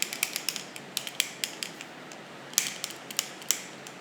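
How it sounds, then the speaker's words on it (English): Eyeglasses turned over in the hand, their hinges and frame giving a string of small, close, sharp clicks and creaks, irregular and quiet, spread through a hushed ASMR-style setting with no talking. "Wanna hear my glasses?"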